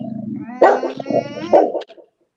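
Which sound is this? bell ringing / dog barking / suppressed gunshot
dog barking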